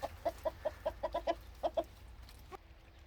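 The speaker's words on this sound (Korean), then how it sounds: "이렇게 닭을 주면 닭 잘 먹습니다." Chickens peck at eggplant snacks, giving off a run of soft, quick clucks and small clicks, irregularly spaced and fairly faint against a quiet outdoor background.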